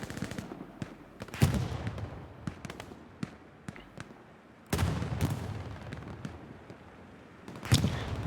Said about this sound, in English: There is artillery.